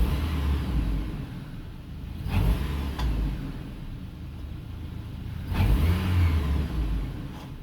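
Engine of a 2008 Chevy Colorado after a spark plug change revs in two sharp bursts from a low idle, each rising quickly and settling back, close and loud with no talking.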